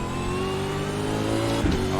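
A V8 Supercar engine revs hard under acceleration at Oran Park in iRacing, a loud, steady, buzzing roar with a brief burst near the end.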